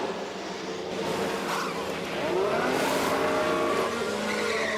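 Formula 1 car in the F1 Manager 22 game at Monaco, a Ferrari peeling into the pit lane, with a steady loud engine whine, pitch sweeps and tire squeal blending over continuous race noise.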